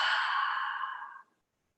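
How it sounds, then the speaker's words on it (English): A long, steady open-mouthed exhale during a yoga breathing exercise, a soft breathy sigh lasting about a second and a quarter before fading out to silence. "Then open the mouth, exhale."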